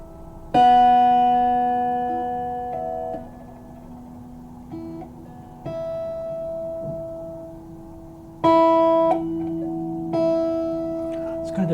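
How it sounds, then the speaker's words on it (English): Guitar natural harmonics at the 12th fret ring out as clear, bell-like tones an octave above the open strings, several plucked notes sustaining and fading, with a few fresh attacks later on and no talking. "you will hear the harmonic or bell-like tone 1 octave above the fundamental or the open string pitch."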